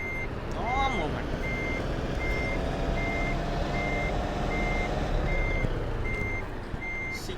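Steady reversing beeps repeat at an even pace from a bus in the Bus Simulator 2023 game, sitting over a constant engine rumble with a brief chirp near the start.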